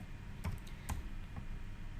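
Faint key clicks on a computer keyboard, a few separate taps scattered over a couple of seconds in a quiet room while typing a date.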